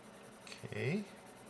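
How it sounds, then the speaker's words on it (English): Staedtler Lumograph 6B soft drawing pencil scratching across paper in a short, faint stroke of about half a second, close up and quiet with no talk. "write that down as 6B"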